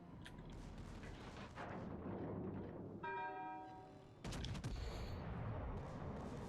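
Secondary guns of the battleship Arkansas in World of Warships Legends, firing at a destroyer: a string of sharp, rapid gun reports in two bursts with a ringing tonal tail between them, loud over a continuous battle rumble.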